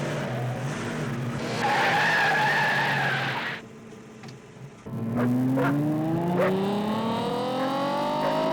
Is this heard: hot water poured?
no